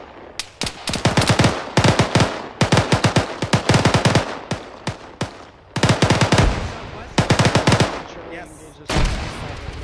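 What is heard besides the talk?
gunfire during military field training exercise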